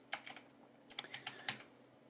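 Quick bursts of keystrokes on a computer keyboard while entering a search term, two short clusters of clicks separated by a brief pause, close and fairly quiet.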